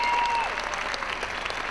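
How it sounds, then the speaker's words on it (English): A crowd at a bouldering competition claps and cheers steadily at a distance, with a brief whistle at the start under continuous applause. "So the crowd picks up behind us now."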